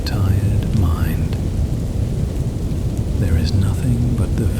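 Steady rain hisses throughout a thunderstorm, with a low rumble underneath and a few faint tonal chirps drifting above the wash.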